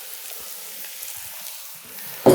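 Sliced mixed mushrooms hit a hot pan, a soft steady sizzle that swells sharply at the end as they land.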